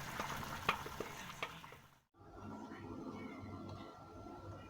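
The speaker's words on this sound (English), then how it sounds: "So I'm toasting the bread." Bread toasting in a pan gives a steady, close frying sizzle with faint clinks, cutting out briefly in the middle before resuming.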